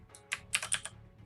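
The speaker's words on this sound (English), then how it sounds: "I got Cherry MX Blue keyboards" A Cherry MX Blue mechanical keyboard typed on, giving about five crisp, clicky keystrokes in a quick uneven run, close and clear over a low steady background hum.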